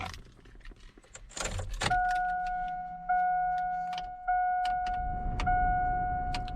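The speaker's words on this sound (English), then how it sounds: "Keys, keys, keys." Keys jangle and rattle in the ignition of a 2002 GMC Sierra 1500 pickup, a few close metallic clinks followed by steady chimes and tones, with no talking.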